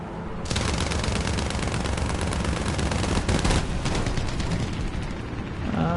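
Dense, continuous gunfire in the War Thunder video game, rapid overlapping bursts and blasts that stay loud and unbroken throughout with no pauses or talk.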